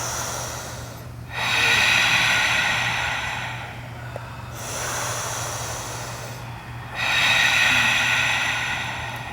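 Yoga class students taking slow, audible breaths during a hamstring stretch, three long breathy waves that rise and fall, close and fairly loud, with no talking.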